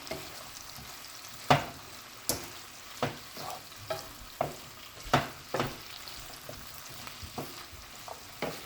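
Seasoned fish cooks in hot oil for Jamaican brown stew fish, with a soft background sizzle broken by irregular sharp pops and spits every half second or so, close and fairly quiet.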